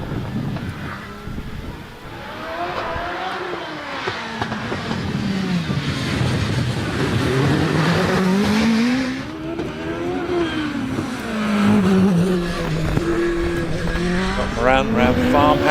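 A Gould GR59J race car climbs the hill at the Harewood hillclimb, its engine loud and near, revs rising and falling through gear changes under continuous commentary.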